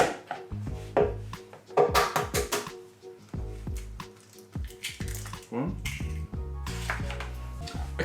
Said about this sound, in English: Then we're going to crack in eggs to the value, hopefully, of 225 grams.